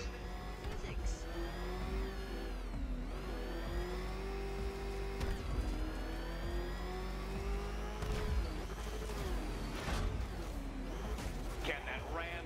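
The Batmobile's engine in Batman: Arkham Knight revs loudly and continuously, rising and falling in pitch with tire and impact noises mixed in, alongside speech.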